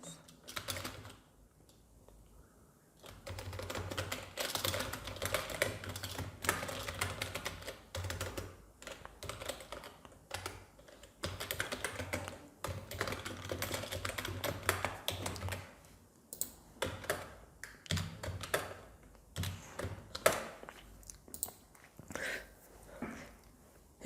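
Someone types an email ID on a computer keyboard in steady bursts of close, crisp key clicks, broken by short pauses, with no talking.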